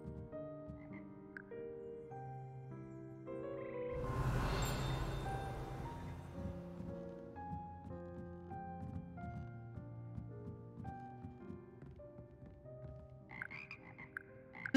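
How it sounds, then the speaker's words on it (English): Frogs croak in a music room in Hogwarts Legacy, a steady chorus of tonal, musical notes layered over game music, swelling into a louder dense burst early on before settling back to even, continuous singing. "These are frogs."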